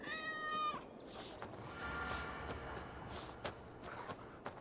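A cat in Assassin's Creed Valhalla gives one short, high meow while being petted, followed by soft shuffling steps and light rustling under faint game ambience, fairly quiet and with no talk.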